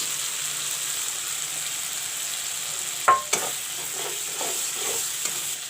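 Chopped tomatoes hit a pan of frying chili-powder masala with a clattering drop, then a steady sizzle continues under slow, scraping stirs.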